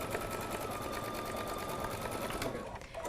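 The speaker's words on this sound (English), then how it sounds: "we're going to run that finishing satin stitch" Embroidery sewing machine stitching a finishing satin stitch on a Christmas ornament design, a steady, fast mechanical whir with rapid needle pulses, running continuously close up before easing off near the end.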